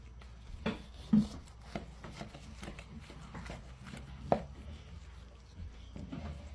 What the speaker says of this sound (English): Let's slice into this yak.